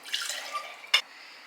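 Whisked matcha being poured into a glass, a brief liquid trickle followed by a single splashy drip, close and faint, with no talking.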